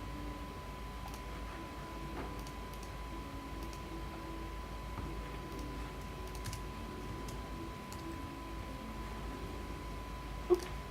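Computer keyboard typing, faint scattered key clicks in short irregular bursts over a steady quiet hum, with one sharper click near the end.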